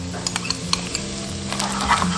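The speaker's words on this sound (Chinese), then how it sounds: "炒香后下入蛋黄" Salted egg yolk stir-fries in hot oil with minced garlic, a bright close sizzle punctuated by light clinks and scrapes of a spatula against the pan, with no talking.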